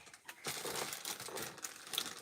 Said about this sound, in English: As I fight over the plastic bag